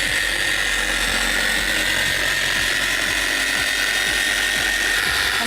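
Wax Attack Professional polishing machine running steadily at low speed, a constant loud motor whir with faint repeated ticking clicks, no voices.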